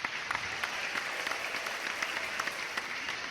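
Steady applause from a crowd, a continuous wash of many hands clapping at an even level with occasional distinct sharp claps, no talking over it.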